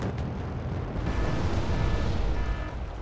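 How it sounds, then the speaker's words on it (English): Heavy bombs exploding on a Wargame Red Dragon battlefield during a 4v4 Soviet and Korean battle, a loud continuous rumbling roar of blasts that swells and holds for a few seconds with no voices. "Also some bombs."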